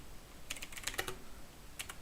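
Quiet keystrokes on a computer keyboard as a terminal command is typed, with a short cluster of taps, a pause, then a few more presses.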